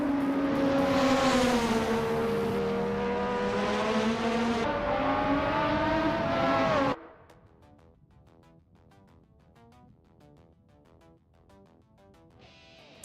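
Race cars in a racing video game, a loud sustained engine whine rising and falling in pitch for several seconds, then cutting abruptly to faint, distant engine hum and rattles.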